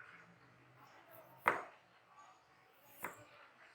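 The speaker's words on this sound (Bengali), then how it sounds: "তো প্রথমে আমরা লেবুটাকে সুন্দর করে কেটে নিব।" A knife cuts through a lemon on a board, two sharp close chops about a second and a half apart, with quiet room tone between them.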